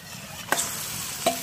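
Marinated mutton goes into a pan of golden-brown fried onions with a steady low sizzle, while two brief clatters of stirring or a utensil stand out above the frying.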